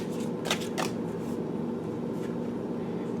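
A tarot deck is shuffled close by, with two quick riffling bursts near the start and a softer one later over a quiet room hum, and nobody speaks.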